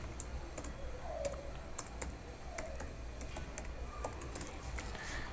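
Steady clicking of a computer keyboard as someone types PHP code, irregular quick keystrokes at close range with no voices over a low room hum.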